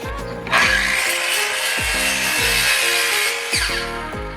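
A power saw cuts through a wooden rafter while a handcart is rebuilt into a kitchen cart: a loud, steady whining rasp that runs continuously, close up, with brief dips as the blade bites.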